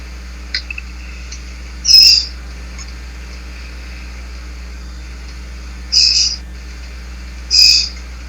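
A bird calls outside in three short, high, piercing chirps spread apart, heard faintly over a steady low hum and insect-like background.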